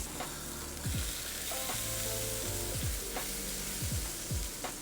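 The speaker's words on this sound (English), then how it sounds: "go ahead and have your pan at about medium low, and put your burger patty on" A burger patty fries in a pan over medium-low heat, a steady soft sizzle beneath louder background music.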